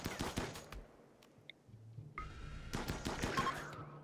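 Assault rifles in RimWorld fire rapid bursts of sharp shots, a dense volley at the start, then scattered single cracks and more bursts, with faint impact and game effect sounds between them.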